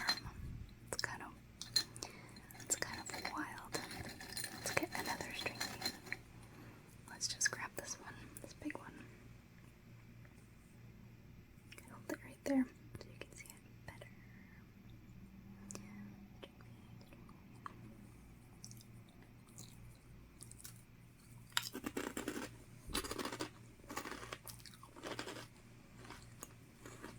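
Soft, close crunching bites of string bean chips come in bursts, with quiet whispering and faint packaging clinks between chews.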